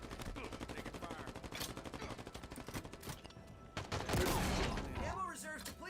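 Rapid bursts of automatic gunfire and machine-gun fusillades in a timed online shooter match, dense and continuous with louder explosive hits near the end, sounding close and busy throughout.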